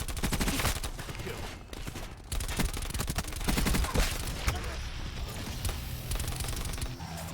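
Gunfire in Call of Duty Black Ops 4 on the Nuketown map comes as rapid, dense automatic bursts with sharp repeated cracks throughout, over busy game noise.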